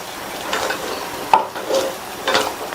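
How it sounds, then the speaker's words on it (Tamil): A spoon stirs milk being added bit by bit into payasam in a pan on the stove, giving a few soft scraping strokes and gentle liquid swishes close by, with no talk. "இந்த பாலை கொஞ்சம் கொஞ்சமா சேர்த்து நம்ம கிண்டி கொடுக்கணும்"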